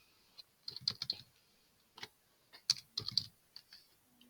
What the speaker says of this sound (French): vous pouvez taper votre texte totalement librement